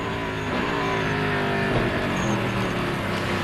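A Grand-Am Rolex Sports Car race car from 2008 drives into turn 1 at full throttle, its engine roaring loud and steady while other cars' engines blend into the continuous racing din.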